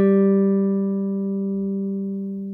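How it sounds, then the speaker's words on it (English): A single sustained G note plucked on the 4th string at the 5th fret of a guitar, ringing clear and close and slowly decaying over a couple of seconds with no other sounds. "I wanna play this G right here on the 5th fret of the 4th string"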